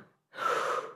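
A single sharp inhale during a breathing exercise, a short close gasp of breath after a brief quiet pause.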